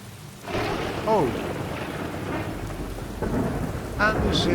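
Thunder rumbles over steady rain during a stormy spell of weather in Morrowind, the roll building and fading as swells near the middle and end, with a few short voice-like chirps on top.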